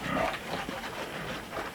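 Pigs feeding on freshly hacked banana leaves, with close grunting, snuffling and chewing over a muffled outdoor background.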